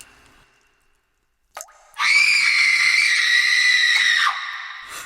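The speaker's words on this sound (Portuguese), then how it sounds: "Fomos despertados por gritos lancinantes de mulher" A woman's piercing, sustained scream, used as a podcast sound effect, rises sharply after a brief rising squeal and holds loud and steady for about two seconds before dropping off, with no talk over it.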